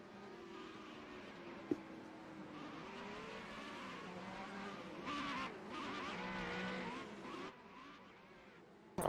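Race car weaving to warm its tires on a formation lap at Kyalami in a racing video game, a steady engine drone with faint tire scrubbing and brief squeals, moderately distant, with a sharp click near the start.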